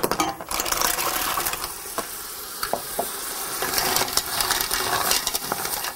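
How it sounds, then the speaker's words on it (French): Mussels tipped into a pot of onions and spices for an Indian-style curry with parsley and dill, giving a steady sizzle with clinks and stirring scrapes throughout, near and fairly loud, with no talking. "on ajoute les moules et on laisse cuire peut-être 2 minutes"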